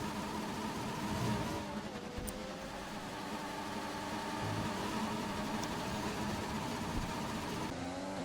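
Engine of a car in an F1 racing video game at the Singapore circuit, suffering an engine glitch: a steady, buzzing, whining drone at moderate level with slight pitch sweeps, running throughout with no voices.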